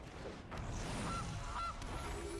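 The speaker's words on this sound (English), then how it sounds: "here's a goose" A cartoonish goose from the MTG Arena card game honks twice in quick succession, short nasal calls over a quiet ambient backdrop.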